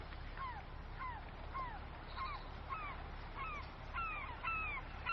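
Birds at Skårland Fjord in the video game Fishing Planet, repeated short chirping calls at a regular pace over a steady low ambient hum, moderately faint.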